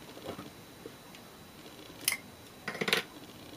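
Scissors snip through a small piece to cut it in half, a few faint soft handling sounds followed by two or three crisp close cuts near the end, no talking.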